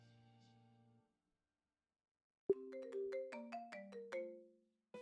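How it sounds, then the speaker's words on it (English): A phone ringing in the Idols of Starlight video game: after a short silence a sharp tone opens a bright, melodic ringtone of quick rising and falling notes, clear and alone. "Just then, Hikaru's phone rang."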